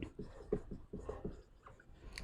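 Chalk or marker strokes on a lecture board, a string of short, scratchy taps and scrapes in quick uneven rhythm, heard close and fairly faint in a quiet classroom.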